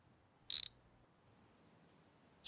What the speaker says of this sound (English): Get the wrench back in my hand.